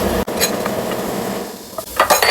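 French beans stir-frying with butter in a pan, a dense sizzling hiss broken by clattering knocks of a utensil against the pan, with a sharp clink near the start and more clanks toward the end.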